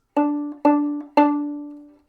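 An open D string on a bowed violin or viola, played as three steady strokes, the first two short and the last held longer.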